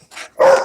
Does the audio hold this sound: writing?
no